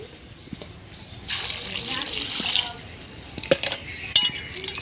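Grapes being washed in water in a home kitchen, with a soft swish and splash of stirred water and a few light knocks, close by, while a person talks over it.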